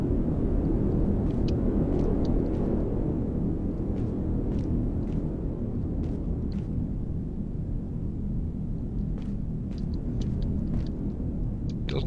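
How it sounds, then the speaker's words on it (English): A storm in the survival game Heat Death rages as a steady, dense roaring rumble of wind and rain, with faint scattered ticks and patters over the top, unbroken and without speech. "I should check that while there's a storm going on, shouldn't I?"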